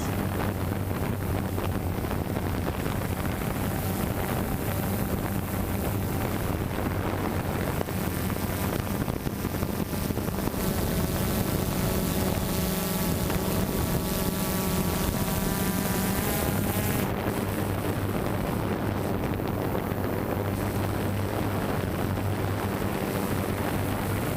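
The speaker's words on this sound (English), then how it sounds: "I'll put the drone up and have a little look from the air, see if I can spot it" A drone flies overhead above farmland, its propeller whine droning steadily for the whole stretch with heavy wind buffeting the microphone, swelling slightly in the middle before easing back.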